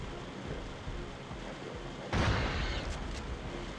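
A single heavy shotgun blast with explosive shells in the video game Turok 2, a sharp broadband burst followed by a brief rumbling decay over steady ambient background.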